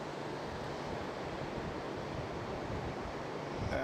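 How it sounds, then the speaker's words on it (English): Waves roll in on the Gulf shore at night under a rising moon, a steady broadband wash of surf mixed with wind noise, with no voices. "With the reflection off of the Gulf, the waves coming in"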